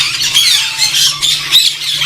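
Shrill, raspy squawks from an African parrot in a large aviary setup with many parrot cages, calling repeatedly and fairly close over a steady background of other bird chatter.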